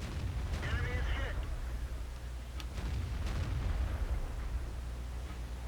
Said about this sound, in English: 2 E25 shooting at something is hilarious to hear